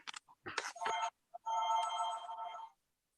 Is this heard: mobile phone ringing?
yes